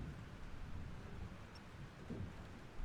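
A thunderstorm in the video game Life Is Strange produces a steady wash of heavy rain over a low, rolling rumble of thunder, continuous and faint throughout.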